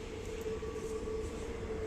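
Steady mechanical rumble of a metro train at the Assemblée nationale station, continuous and fairly close, with a sustained tonal whine running throughout and no talking.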